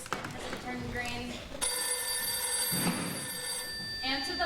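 A telephone bell rings in a sustained metallic trill, near and fairly loud, with voices talking around it.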